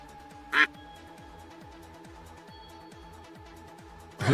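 Duck quack sound effect in a live trading stream: one sharp quack early on, then near silence, then a second quack beginning at the very end.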